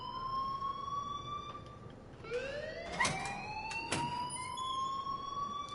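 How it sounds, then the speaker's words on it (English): Alarm ringing in the video game Life is Strange, a steady high wailing tone with harmonics, joined midway by rising and falling siren-like sweeps and sharp bursts, continuous throughout at moderate level. "please turn off that alarm since that's your job"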